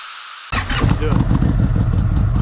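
A motorcycle engine fires up abruptly from silence and keeps running steadily and loudly close by, with a rough low rumble throughout, before the bike is taken for a spin around the block.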